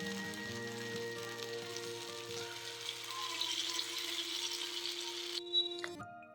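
Marinated fish hissing on a hot oiled tawa, a steady close sizzle under background music that stops abruptly near the end.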